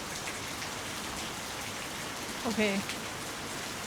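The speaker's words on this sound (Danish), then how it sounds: "det har regnet i 20 minutter, og det er allerede oversvømmet." Heavy tropical rain pours down in Bali, a dense, steady hiss of downpour filling the whole scene, with a brief spoken word heard faintly through it.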